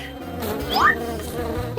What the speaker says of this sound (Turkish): Phoebe orada arı var.